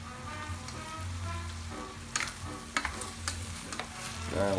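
Pasta with pancetta, onions and peas sizzles steadily in a pan, broken by a few sharp scrapes and clicks of stirring, close up with no talking.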